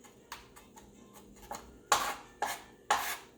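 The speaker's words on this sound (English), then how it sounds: "Let's go ahead and chop up our garlic." A knife finely chops garlic on a cutting board, a few faint scrapes followed by three louder, evenly spaced chops close by, with no talk.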